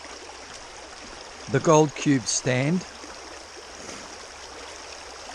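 Steady creek water flowing and trickling as a constant background wash, with someone speaking briefly over it partway through.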